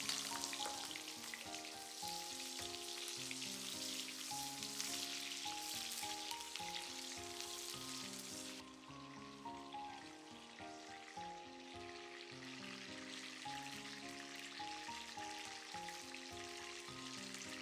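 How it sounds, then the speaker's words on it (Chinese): Scallion pieces fry in leftover oil in a wok, a steady dense sizzle that carries on for the whole stretch, close by and alone, with background music running underneath. "锅留底油，放入葱段，"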